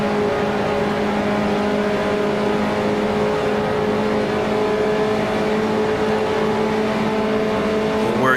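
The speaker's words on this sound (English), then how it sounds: "Car running a little wide now." A 1955 Formula One race car engine in the Grand Prix Legends sim racing game, a loud, steady, buzzing high-pitched drone held under throttle with a slight rise in pitch near the end, no voices.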